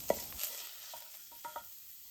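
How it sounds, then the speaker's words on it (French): Cream cheese and melted butter are stirred together in a pan over low heat, giving a few soft scrapes and clicks of a utensil against the pan over a faint sizzle, with no voices. "nous remuons, nous mélangeons ces deux ingrédients ensemble jusqu'à ce que le fromage frais se soit gorgé de tout le beurre fondu"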